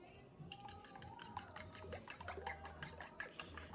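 Eggs beaten with a fork for soft scrambled eggs, a rapid, steady run of quiet metallic clicks against a bowl, close up with a faint background hum.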